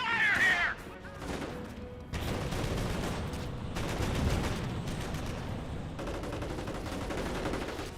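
Gunfire and combat noise in the World War II strategy game Company of Heroes, dense bursts of shots and rattling fire over a steady battle din, loud and continuous.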